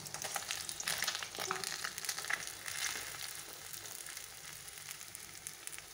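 Pieces of pabda fish fry in hot oil for a spicy Bengali fish dish, giving a steady, close crackling sizzle with small bursts and occasional stirring, and no voices.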